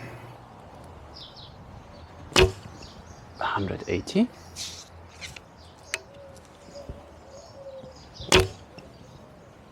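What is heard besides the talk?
arrow shot from a Kheshig Alibow bow, 500 grain arrow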